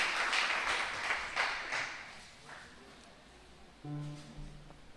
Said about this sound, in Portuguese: dê um forte aplauso ao nome do Senhor